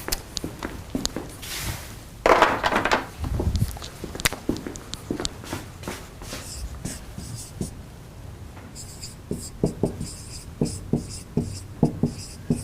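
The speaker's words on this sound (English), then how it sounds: "Let's write it down here" A marker or chalk scratches and taps across a lecture-room board in short irregular strokes, with a brief louder rub early on and quiet speech in between.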